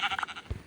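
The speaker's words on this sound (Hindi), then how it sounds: "वाह उधर देखो 2 बकरी फंस गई" Goats in the Minecraft video game give a short pair of bleats, fairly near and moderately loud, followed by a low thump.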